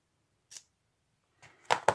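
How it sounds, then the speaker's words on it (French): Scissors cutting paper, a few short close snips: one isolated cut, then three quicker ones at the end, in a quiet room. "il n'y a plus qu'à venir couper ici"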